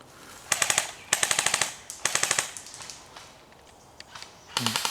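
Airsoft guns fire in rapid bursts on a farm skirmish field, several sharp clattering volleys of quick pops separated by short pauses, fairly close, with a final burst at the end.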